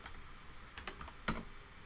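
Keys clatter on a computer keyboard in short scattered taps, a couple of louder strikes near the end, quiet and close with no voices.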